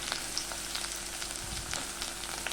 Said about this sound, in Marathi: आलं लसूण जे किसून घेतलेलं आहे बारीक किसणीवरती ते टाकून घ्यायचं आहे आणि तेही व्यवस्थित लालसर होऊन द्यायचं आहे